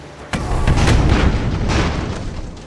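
Bombs bursting in the airship battle game Airships: Conquer the Skies: a sharp boom lands early, then rolling, rumbling blasts carry on loud and dense to the end, with no voices.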